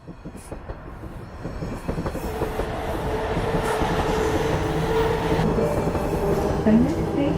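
A metro train runs steadily on its rails, with a rumbling, clattering roar that builds in loudness and carries faint squeals from the wheels toward the end.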